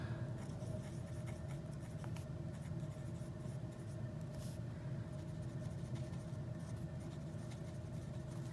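A Delta Unica fountain pen with a fine, somewhat stubby nib scratches across paper in faint, steady strokes, set against a constant low engine-like hum.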